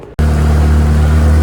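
A new outboard engine on a small dinghy kicks in abruptly and runs loud and steady with a strong low drone, close up and alone.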